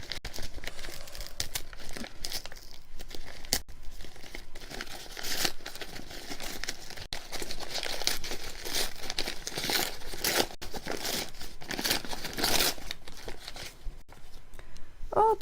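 Gift wrapping around a small figurine is crumpled and torn open close by, a long continuous stretch of crinkling, rustling paper with sharper ripping bursts and no voices.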